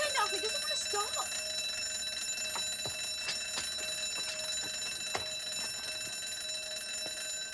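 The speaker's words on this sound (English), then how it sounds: "My boss is trying to install a new burglar alarm, but it's got a mind of its own." A newly installed burglar alarm rings on and on, a steady high electronic tone with repeated bell-like strikes, continuing without pause at moderate level while a voice speaks briefly at the start.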